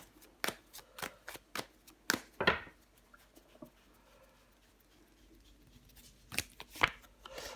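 Tarot cards are laid down on a table in a series of crisp, close slaps and snaps, one card covering another, with quiet stretches between and soft dog panting in the background.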